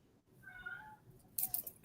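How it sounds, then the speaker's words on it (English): Pet cat meowing indoors, a short drawn-out mew heard fairly close but not loud, followed by a brief second call, with sharp handling clatters near the end. "I keep hearing the meow."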